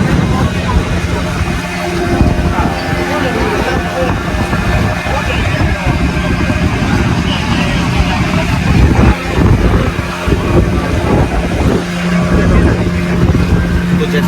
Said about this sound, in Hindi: हम लोग एक बोट के ऊपर है and we are heading towards the paradise beach.